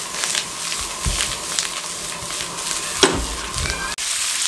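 Spices and coriander roasting in a pan for a stuffed tinda masala sabzi, a steady soft sizzle and crackle with a few brief clinks and stirs throughout.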